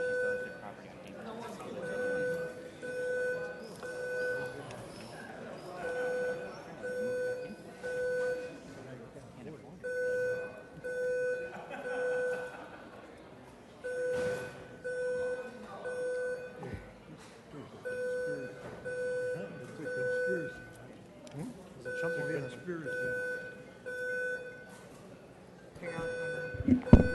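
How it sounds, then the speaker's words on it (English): A repeating electronic alarm beeps in a council meeting room, regular bursts of steady tones that stop and restart over and over, with people talking underneath throughout. "We're trying to figure out what the alarm is about"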